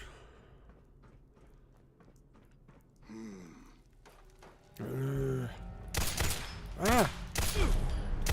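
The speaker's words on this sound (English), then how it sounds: "That was some awful shooting on my part." Gunfire in the Fallout 4 video game breaks out in sharp, loud bursts after a quieter stretch, several shots cracking close together near the end, with a short pained cry among them.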